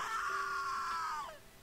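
A character in the video game The Cat Lady lets out a sustained, strained scream that holds steady and then trails off downward, loud and alone.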